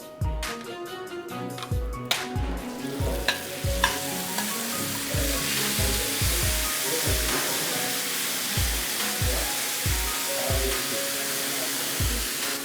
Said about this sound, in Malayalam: ഇനി നെക്സ്റ്റ് നത്തോലി തവ ഫ്രൈ.